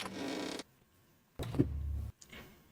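A door in a romance video game creaks shut, with a short scraping creak followed by a heavier, lower-pitched groan and a faint final click, all close and clear.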